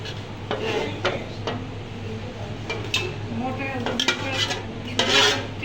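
Sultani biryani with two whole chickens being stirred in a pot, with scraping metal spoon strokes, clinks against the pot and a faint sizzle, while people talk over it.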